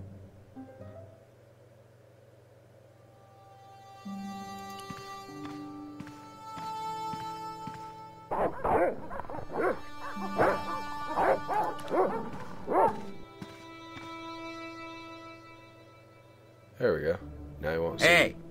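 Dogs in the video game Broken Sword bark and yip in several sharp bursts, loud and close, over game music and someone talking.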